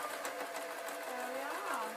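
A sewing machine runs steadily as it stitches bias binding around a curve, giving a fast, even mechanical whir close by while a person talks over it.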